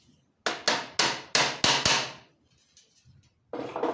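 Sharp metallic hammer blows on a screwdriver used as a wedge during a bicycle rear hub change, six quick strikes in a row, then a pause and a rougher scraping burst, close and loud with no talking.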